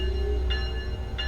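In Train Sim World 2, a locomotive bell on a Boston commuter train rings twice at a steady interval, clear and ringing above a constant low engine rumble.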